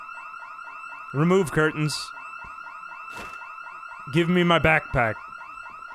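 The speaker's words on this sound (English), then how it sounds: "Oh crap, that had a house alarm." A house alarm in Project Zomboid rings in a fast, repeating electronic warble that continues steadily, while someone talks over it in two short bursts.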